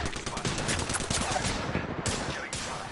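Rapid automatic gunfire in a video game, a continuous loud, dense rattle with a brief break near the end, with no talk over it.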